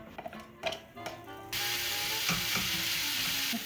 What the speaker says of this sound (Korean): 오늘은 바쁜 관계로 양파를 이렇게 불에다가 살짝 볶아서 사용할게요